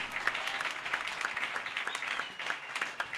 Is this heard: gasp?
no